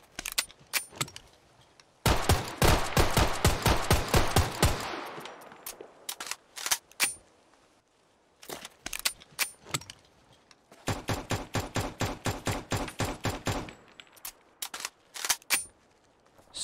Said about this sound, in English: take the HK-USP.45 and replace its firing sound with a new and improved one